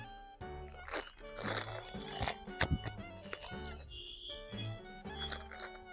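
A Kurkure snack packet is torn open and the crisp snacks crunched, bursts of loud close crinkling and crunching with a few quick sharp rips.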